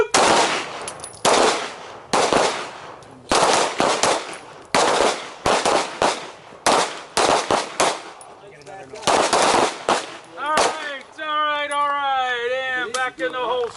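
Handguns fire in rapid, overlapping volleys during a shooting drill on a combatives training range, many sharp loud cracks over several seconds, then a voice speaks.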